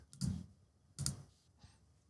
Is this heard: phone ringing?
no